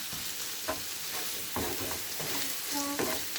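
Meat for lasagne sizzles steadily in a hot pan, a continuous close frying hiss broken by occasional scrapes and taps of a utensil stirring and breaking it up.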